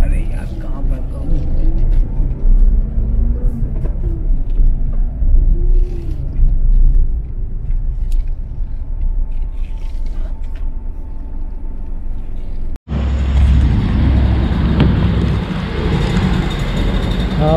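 A car drives along with a loud, continuous engine and road rumble inside the cabin, then the sound cuts to a different, brighter outdoor scene near the Suchindram Thanumalayan temple in Kanyakumari, with someone speaking over it.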